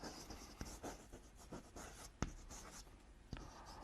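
Chalk or marker writing on a classroom board during an ecology lesson: faint scratching strokes with a few sharp taps, quiet and close, no voices.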